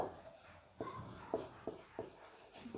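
Pen or marker writing out complex-number working during a maths lecture, a faint run of short scratching strokes and taps at an irregular pace, quiet and close, with no talking.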